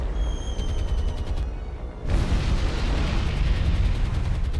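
Bombs explode in a World War II naval strategy game. A rumbling blast swells in after a short quieter stretch and then rolls on as a loud, continuous roar.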